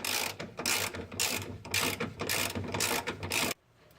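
Ratcheting on a bolt during CV axle replacement on a 2009 Chevy Cobalt: rapid repeated clicking in steady bursts, close and fairly loud, stopping abruptly near the end with no talk.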